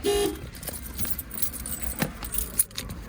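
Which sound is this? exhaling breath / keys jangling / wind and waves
keys jangling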